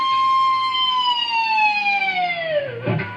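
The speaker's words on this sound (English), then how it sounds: "do a pinch harmonic and then do a dive bomb." An electric guitar on the G string gives a squealing pinch harmonic at the 5th fret, then a slow dive bomb that bends the pitch steadily downward over a few seconds before a brief noisy end. It is loud, close and unaccompanied.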